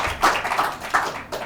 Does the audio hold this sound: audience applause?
yes